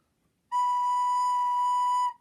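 A recorder, played by a guitarist who rarely plays it, holds a single steady B note for about a second and a half, clear and pure against a quiet room.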